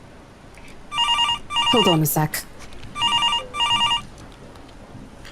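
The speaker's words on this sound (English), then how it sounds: "She quickly removes herself from me to answer the fucking phone on her desk" Desk telephone ringing in a horror visual novel game, The Letter: four electronic double-rings in a steady rhythm, with a brief voiced exclamation and a short spoken line between them.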